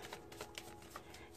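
Tarot cards being shuffled by hand, a soft, close riffling and rustle of card stock with small flicks, quiet and continuous for a moment.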